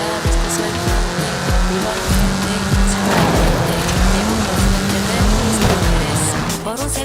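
A track-focused road-legal car driven in Forza Horizon 5, its engine droning loud and steady with repeated tire squeals and skids, under in-game navigation voice and chatter.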